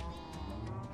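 A single sheep bleats in the Minecraft GTNH modpack, a wavering nasal baa held for about a second at moderate, steady loudness, with no voices over it.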